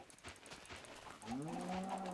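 A cow in the Minecraft video game gives one clear, drawn-out moo that rises over faint background game sounds.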